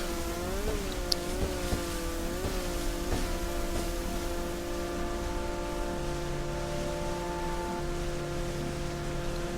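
A Stromberg jet ski in a video game heads toward a submarine, its motor giving a steady mid-level whine with a few early pitch dips and swoops, then holding an even drone.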